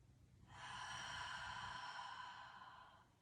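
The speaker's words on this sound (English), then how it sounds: "Let's take a deep breath in." One slow, deep breath drawn in during a Pilates hamstring stretch, close and soft, a smooth airy rush swelling over about two and a half seconds before fading out.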